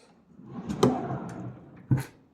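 A cabinet drawer slides shut and catches on a Velcro strip, giving a wooden knock and brief rustle, then a second sharp thump as it seats closed, close and alone.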